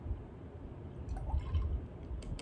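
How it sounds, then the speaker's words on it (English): Sucrose solution, about 20 cubic centimetres, poured into a test tube during a potato osmosis lab, giving a soft, low liquid gurgle with a few faint drips, close and quiet. "I will pour that into the appropriate test tube."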